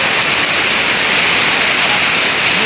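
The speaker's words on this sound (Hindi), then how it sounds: "ये चेक करें पानी का बहाव" A Kashmir waterfall roars close by, a loud, steady rush of falling water filling the scene without a break.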